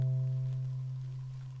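A single guitar note, C played at the third fret of the fifth string, rings steadily on its own, with a clear sustained tone that slowly fades over about a second and a half.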